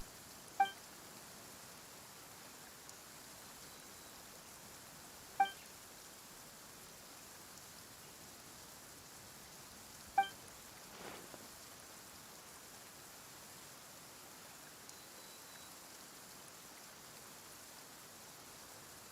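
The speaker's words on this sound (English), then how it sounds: "Why is it raining all of a sudden?" Faint, steady rain hiss in Genshin Impact continues throughout, with soft electronic beeps sounding about every five seconds.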